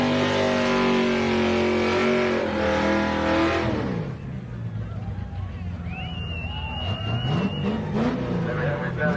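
A 1980s street machine revs hard through a tyre-smoke burnout at the Summernats car festival. The loud, sweeping engine roar drops off partway through and gives way to crowd noise, with voices talking over it.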